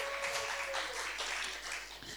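A church congregation claps and cheers together in a steady, continuous wash of applause with mixed voices, close and lively throughout.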